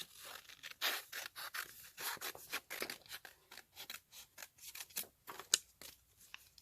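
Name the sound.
scissors cutting out a yellow paper label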